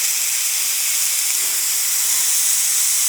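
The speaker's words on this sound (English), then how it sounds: "what we have to do with the pressure cooker is release the pressure" Steady, loud broadband hiss of steam venting from a pressure cooker's release cap, continuous and unbroken throughout with no pauses or voices.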